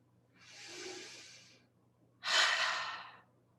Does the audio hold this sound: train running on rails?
no